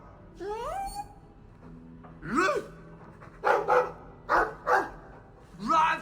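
A few short barks and yips from a dog in the video game Dragon Age 2, interspersed with rising whiny calls, fairly close and clear with gaps between them.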